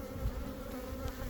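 Honeybees hum steadily at an open beehive during a beekeeping inspection, a dense, close, continuous drone with no voices over it.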